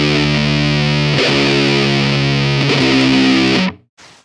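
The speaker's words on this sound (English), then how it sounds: "descending riff, chromatic descending riff that you'd hear in tons of other metal songs, especially doom metal" Distorted doom metal guitar riff steps down chromatically with thick, sustained overdriven chords and a chorus-like shimmer, loud and alone before cutting off abruptly with a brief ringing tail.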